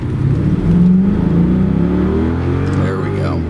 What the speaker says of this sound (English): So I need to drive this car for a day or two to get the transmission to realize that somebody with a pulse is behind the wheel